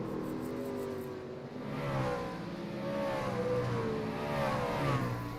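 Racing trucks roar around the Eldora dirt track, their engines a steady, rising and falling drone of several motors heard from a distance, with no talk.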